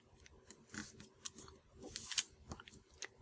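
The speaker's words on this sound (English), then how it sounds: "Just fold straight up and crease that in." Paper being folded and creased by hand for an origami pig, with a run of close, crisp crackles and sharp rustling taps coming in irregular bursts, no talking.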